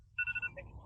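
A mobile phone rings outdoors at a family scout cookout, giving a short bright electronic chime of a few rising tones that fades quickly into low background murmur.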